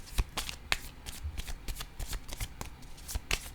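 Playing cards shuffled up close in quick riffling bursts, a rapid run of crisp flutters and snaps repeating through the moment with no talk.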